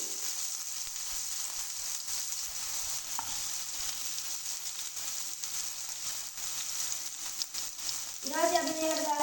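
Tomatoes frying in oil in a pan for cheese kottu, a continuous bright sizzle throughout, with a faint voice briefly intruding near the end.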